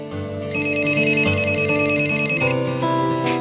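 An office telephone rings with a bright, repeating electronic ringtone, loud and close, lasting a few seconds with no one speaking.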